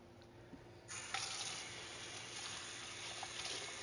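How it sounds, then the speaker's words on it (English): Bathroom sink tap turned on for hand washing with antibacterial soap, a steady, soft hiss of running water that starts abruptly and continues evenly, close by and fairly quiet, with no talking. "let's go wash my hands with some antibacterial soap"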